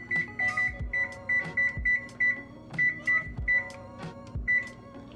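Kitchen oven control being set to bake at 425 degrees, giving runs of short, bright electronic beeps in quick bursts, repeated several times, close and clear with faint soft thumps of button presses underneath.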